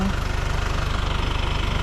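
A motorcycle engine idling up close, a loud, steady, rapid pulsing throb that never changes pace, with no voices.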